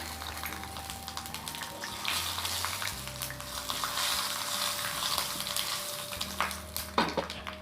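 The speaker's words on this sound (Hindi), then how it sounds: "तापर तेजपत्र आ सोरिष जीरा सब पकेदेबा।" Bay leaf, mustard seeds and cumin frying in hot ghee in a pan, a steady close sizzle and crackle with occasional stirring scrapes.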